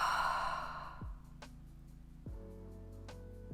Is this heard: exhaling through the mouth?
yes